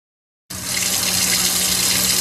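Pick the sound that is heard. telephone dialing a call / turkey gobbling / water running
water running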